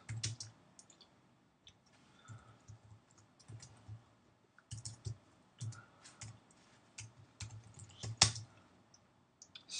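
Code being typed on a computer keyboard, irregular bursts of close, crisp key clicks with short pauses, fairly quiet and with no talking over them.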